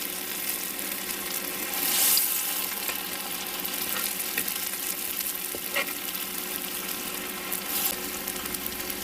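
Black-eyed bean patties (akra) frying in hot oil give a steady, dense sizzle and crackle throughout, with small pops and occasional stirring scrapes, close up and without talk.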